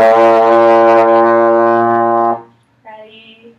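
A trombone sounding one steady, loud B flat in open position for about two seconds before stopping, followed by a short soft tone at the end.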